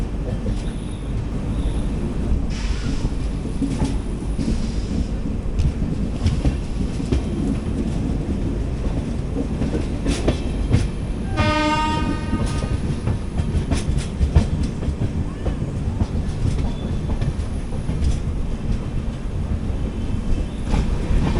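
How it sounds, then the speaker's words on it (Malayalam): An Intercity Express train rolls into Tirupati station, a steady rumble of wheels and coaches with rhythmic clickety-clack over rail joints and a brief squeal partway through, continuous and close. "നമ്മൾ ജസ്റ്റ് തിരുപ്പതി സ്റ്റേഷനിലോട്ട് പ്രവേശിക്കുകയാണ്"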